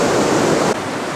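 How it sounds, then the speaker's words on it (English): Muddy, spring-swollen river water in Sarajevo, a steady broad rushing wash that drops abruptly in level partway through, with no voices. "A little pan up the muddy, spring-laden waters of this river."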